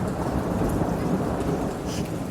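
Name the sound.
thunder during a storm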